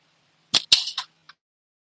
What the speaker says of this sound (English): I'm gonna enjoy shooting this and tear up the rest of the top half of this can